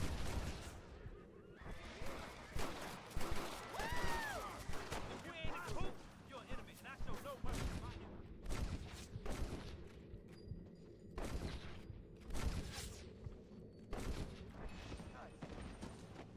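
Repeated gunshots and bursts of fire ring out in Red Dead Redemption gameplay, sharp cracks spread irregularly across the stretch, mixed with game sounds and people talking over them.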